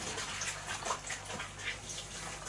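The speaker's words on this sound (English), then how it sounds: "let me just go and quickly wash my hands" Tap water runs steadily in a home kitchen as hands are washed after making Easter pizza dough, a continuous broadband gush and splash with no talking.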